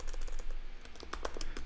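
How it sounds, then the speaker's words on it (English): Quick bursts of keystrokes on a computer keyboard while entering text into a text editor, a short run of close, crisp clicks over faint background hiss. "I would pull up a little text edit and I would, you know, type in something like"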